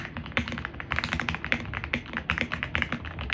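Rapid typing on a budget gaming keyboard in the $60 price range, a dense run of close, clacky keystrokes with uneven rhythm, alone without talk.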